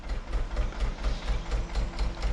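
A Ford Mondeo engine idles with a steady, low, chugging throb that pulses evenly and stays close and moderately loud throughout.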